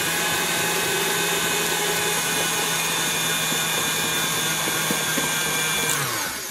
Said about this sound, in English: You're just going to stick it in your stand-up, your heavy-duty stand mixer. With your paddle.